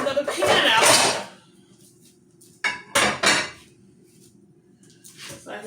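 Metal pans clatter and clank as another pan is pulled out in a home kitchen during meal prep, with several loud bursts separated by quieter gaps and a faint hum.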